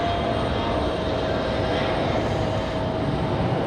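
A Cessna Citation jet with a right landing gear problem makes a low pass at Raleigh-Durham International Airport, a steady loud roaring engine wash holding through the whole stretch.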